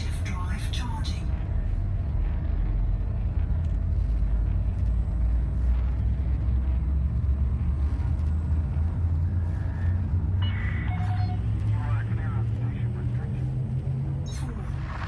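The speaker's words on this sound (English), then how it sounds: "Frameshift drive charging." Frame shift drive charging in Elite Dangerous, a deep steady spaceship rumble building underneath with faint electronic tones, while a voice talks over it throughout.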